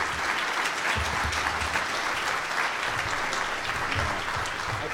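An audience applauds Los Angeles Mayor Anthony Villaraigosa at an education event. The clapping is dense, steady and sustained throughout, with no break and no other sound standing out.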